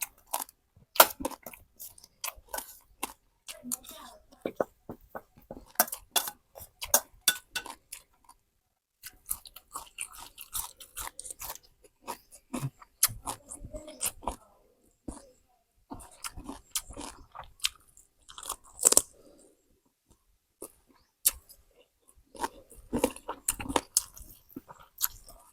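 Someone eats fried chicken leg with hang-le curry close to the microphone, giving steady wet chewing and crunchy bites in irregular bursts with brief pauses throughout.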